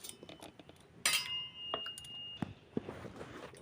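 Sharp clinks and scrapes of a utensil against a bowl while semolina and ripe banana batter is beaten for pitha, a few irregular metallic strikes over quiet background.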